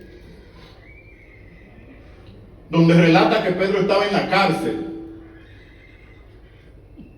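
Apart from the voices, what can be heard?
horse neighing, a loose horse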